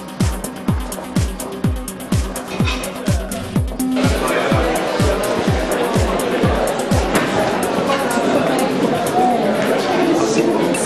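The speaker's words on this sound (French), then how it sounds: "Des dérapages sur la pelouse." Cars slide across a lawn, engine noise and tire scrubbing under a crowd's chatter, with a steady rhythmic thumping beat throughout and a denser rush of sound after the first few seconds.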